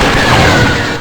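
Gunfire from the space combat game XWVM, a loud, dense burst of blaster-like shooting filling the whole second with no pauses.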